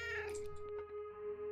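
Leo, a pet cat, meows briefly in a game room, mixed with a steady tone and busy background sound.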